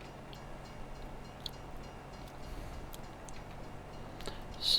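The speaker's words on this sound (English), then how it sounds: "Oh, we got a train coming by." A train rolls past in the Farming Simulator 22 game world, a faint, steady rail rumble with light clicking ticks scattered through it and a brief swell at the very end.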